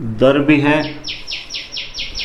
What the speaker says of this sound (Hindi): चिड़िया की आवाज़ सुनो भाई